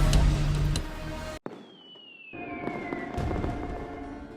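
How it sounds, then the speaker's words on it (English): Fireworks in a fighting-game scene: a dense burst of crackling explosions, a sudden cut to near silence, then a rising-then-falling whistle as another shell climbs and the crackle returns. "A moment to enjoy these fireworks and forget the responsibilities and conflicts for just a single moment."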